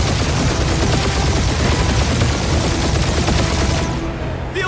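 Dense, continuous gunfire in the Guardians of the Galaxy video game, loud rapid bursts of shots overlapping without pause before cutting off abruptly at the end.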